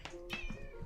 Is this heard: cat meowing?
yes